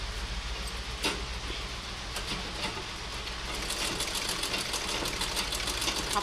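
A sewing machine runs steadily throughout with a rapid mechanical whir and rattling stitching, close and fairly loud, picking up a brighter clatter in the second half.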